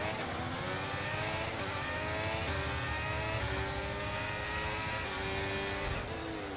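F1 cars in the F1 23 racing game accelerate off the race start: a dense, loud pack of engine roars with layered whines climbing and shifting in pitch throughout, steady and continuous with no talking.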